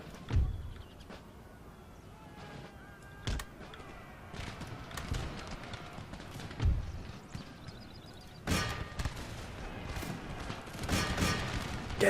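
Musket volleys fired by infantry in Empire Total War, scattered cracks and sharp bursts of gunfire over a busy battlefield din, with heavier clustered shots toward the end.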